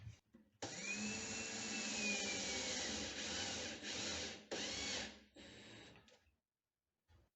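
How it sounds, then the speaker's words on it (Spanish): A power drill drives a screw through a cabinet door hinge into wood in a steady whirring burst that stops briefly and resumes, then winds down to silence. "Vamos a proceder a poner un tornillo."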